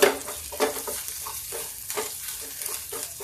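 Ginger and chili hit cumin already frying in a pan on low heat, giving a crackling sizzle with stirring scrapes and a few sharp spatters near the start, close and without voices.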